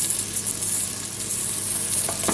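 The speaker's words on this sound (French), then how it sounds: "Alors, on commence par remuer." Sliced vegetables, including halved turnip slices, are stirred in a pot with loud, close, steady sizzling and a few scraping strokes near the end, with no talking.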